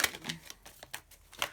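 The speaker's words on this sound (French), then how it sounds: "on va rajouter des cartes par-dessus pour voir de quoi on nous parle" Tarot-style cards being laid down one over another on a card spread, giving a string of light, crisp taps and slaps at an uneven pace, close and fairly quiet.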